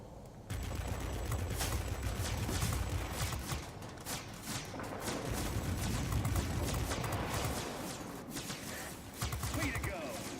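Aircraft guns firing in World of Warplanes: sustained rapid bursts of gunfire over a constant engine drone, running nearly continuously with brief variations in intensity.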